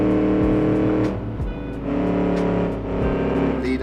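A 1946 Gasmea racing car in a driving video game roars at full throttle, its engine note climbing through repeated gear shifts, loud and close, with brief dips between rising sweeps.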